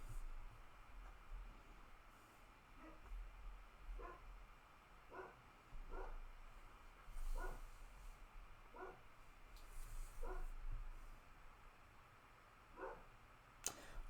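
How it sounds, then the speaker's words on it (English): A dog barks off in the distance several times in an irregular series, faint behind a quiet room hum. "My dog is going off."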